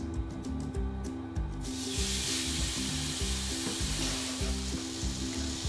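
Thin slices of beef steak sear in a pan over medium to medium-high heat, a broad, steady sizzle that swells after the first moments, with low rhythmic background tones underneath.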